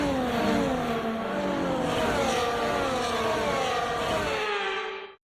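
F1 cars on the formation lap of the Miami Grand Prix in the F1 24 video game, engines revving steadily and loudly with rising and falling pitch sweeps, fading out abruptly at the end.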